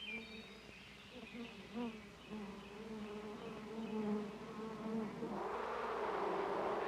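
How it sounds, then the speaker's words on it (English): Honeybees buzz around a hive in a continuous drone of overlapping wing tones that swells louder toward the end. "Many bees live together in a hive. They come and go all day long."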